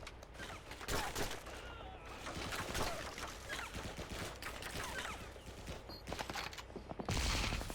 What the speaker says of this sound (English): I shot him through the fucking window